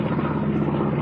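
A TBM Avenger bomber's piston engine drones at an air race show, a steady rumbling buzz passing overhead for about a second at moderate loudness.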